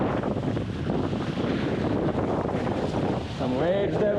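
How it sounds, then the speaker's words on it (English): A Minicat Explorer 520 sailing catamaran cuts through building waves, with steady wind buffeting the microphone and water rushing and splashing close by, and a voice briefly audible near the end. "Some waves developed here. I'm just passing one sailboat after another one. And sailing. This is sailing."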